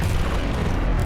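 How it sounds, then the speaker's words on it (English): A programmed explosion sound effect fired from a button: a loud, dense low rumble that fills the whole moment steadily, with no voices over it. "I did program myself the explosion button again"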